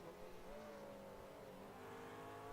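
A GT3 race car accelerates away from the pits at Spa in a sim racing game, a faint, distant engine note climbing smoothly in pitch.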